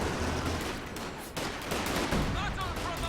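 Priest artillery fires on an infantry support gun in a strategy video game, with booming shots and crackling battle noise in a dense, loud wash under a voice calling the action.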